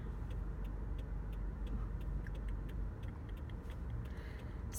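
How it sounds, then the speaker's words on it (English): A car's turn signal ticks at a steady, regular pace, faint above a constant low engine and road rumble inside the moving vehicle. "Ignore my turn signal, even though that might be annoying"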